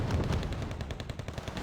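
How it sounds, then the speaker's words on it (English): 30mm auto-cannon fire in Wargame: Red Dragon, heard as a dense, continuous low rumble of rapid shots with no pauses, steady and loud throughout the short burst. "the 30mm auto-cannon took care of one"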